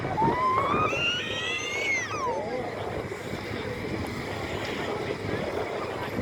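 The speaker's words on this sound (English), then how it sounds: "you can probably hear the power, what we call a power pack in the middle of the arena that's been fired up" A hydraulic power pack driven by a motorbike engine runs at a car-crash rescue demonstration in an arena, giving a steady, moderately loud drone beneath rising whistle-like tones and background noise.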